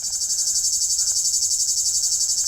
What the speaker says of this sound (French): c'est la cigale lyre, tout simplement, hein, la Lyristes plebejus